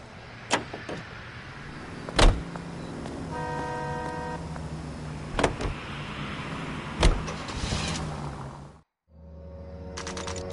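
A car in the video game L.A. Noire: door clunks and a power window whir over a steady engine idle, with a few sharp thumps, a brief drop to silence, then the engine resumes.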